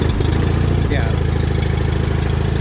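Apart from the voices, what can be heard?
John Deere 318 garden tractor engine running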